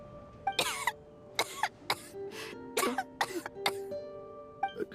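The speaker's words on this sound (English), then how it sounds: "How long have you had that cough, Tonya?" A character in a video game coughs repeatedly in harsh, rasping bursts with throat clearing, irregular and close, some coughs bunched together over several seconds.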